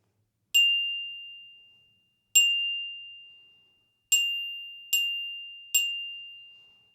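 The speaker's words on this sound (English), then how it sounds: "Anytime you play the bells, you want to make sure that you pull the sound out." Orchestra bells struck with a mallet on the note F ring out alone, five clear bright strikes, the first three evenly spaced and the last two quicker, each tone sustaining and slowly fading.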